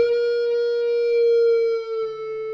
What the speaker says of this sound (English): We're going to go to the G string 14th fret and bend up a half step and slowly bring it down